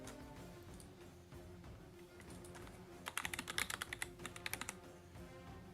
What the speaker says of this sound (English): Mechanics will get his keyboard.